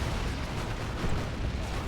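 Dense explosions in the Dawn of War 2 strategy game, with a nuke going off, roll together into a heavy, continuous rumble that stays loud throughout the short stretch.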